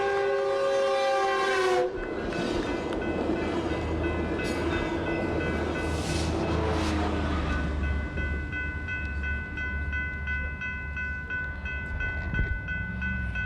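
A passing train blasts a loud, sustained multi-tone horn at an intersection beside a bike path, then the cars rumble and clatter past steadily and close, with a second, fainter horn sounding later and no one talking.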